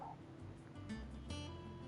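Torgal, a dog in Final Fantasy XVI, gives a few short whines and yips over a low, steady game background, close and fairly quiet.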